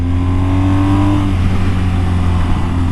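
Motorcycle fitted with Trailmax Mission tires ridden through turns, its engine holding a steady mid-pitched drone that shifts tone partway through, loud and close with no voices.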